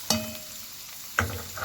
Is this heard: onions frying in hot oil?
yes